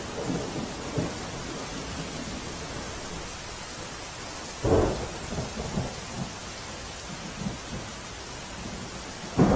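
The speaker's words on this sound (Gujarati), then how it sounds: "વાપીમાં ધોધમાર વરસાદ હજુ પણ વરસી રહ્યો છે" Steady heavy downpour in Vapi, Valsad district, Gujarat, hisses throughout, with a loud thunder crack near the middle and a few softer rumbles rolling around it.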